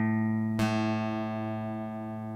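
A single guitar A string plucked during tuning rings out clearly with a sharp attack, then sustains with a steady, slowly fading harmonic tone for about two seconds, alone with no talking.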